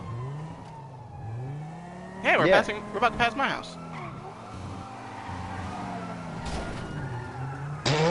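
Fast car in a video game with engine noise and a burst of tire skidding and squealing near the middle, mixed under ongoing talk throughout.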